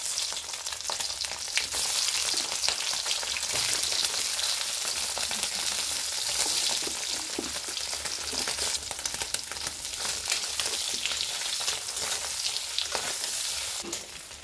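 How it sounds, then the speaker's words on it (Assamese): Salted eggs fry steadily in hot oil, a dense, continuous sizzle with crackling spatter that holds for over ten seconds without pause and with no voices over it. "এতিয়া মই কণীখিনি অলপ ফ্ৰাই কৰি লম।"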